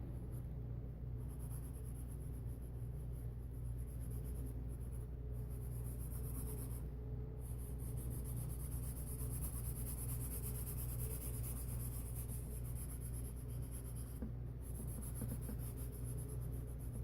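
Pencil scratches steadily across paper while a fantasy costume sketch is roughed in, a soft continuous rasp with a few brief pauses and a low background hum throughout.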